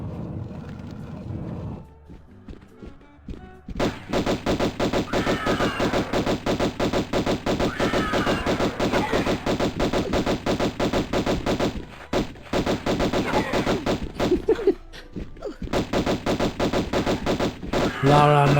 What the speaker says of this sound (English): Lara machine gun.